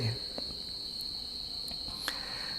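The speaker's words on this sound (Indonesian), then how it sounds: "Suara jangkriknya makin keras ya." Crickets from a graveyard beside a studio chirp in a steady, loud, high-pitched trill that carries through the whole stretch, with a few brief sharper chirps and faint background noise.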